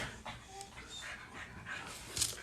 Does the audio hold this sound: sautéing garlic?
no